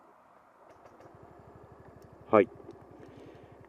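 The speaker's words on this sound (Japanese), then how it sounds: "スマートモータージェネレーター、つまり発電機を始動用モーターとして利用するという方式になっているので、とても静かに始動します" A Yamaha JOG125 scooter with a smart motor generator starter fires up quietly and settles into a soft, steady putter, preceded by a brief click of the start and a short spoken word.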